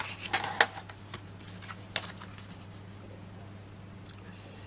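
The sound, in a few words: cutting card paper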